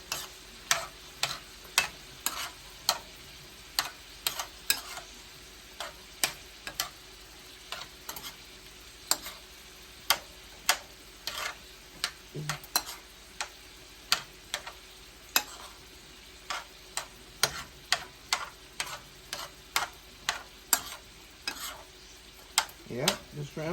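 Meat and shrimp cooking in a pot for Rotel dip, with steady sizzling under a rapid series of sharp scraping stir clicks from a utensil against the pot, fairly close and continuous with no talk.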